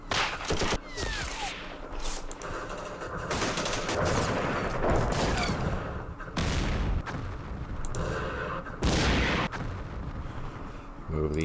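Gunfire and tank cannon shots in the wargame Campaign Series Middle East: repeated loud blasts and crackling volleys arrive in irregular bursts with rumbling between them, and no one talks.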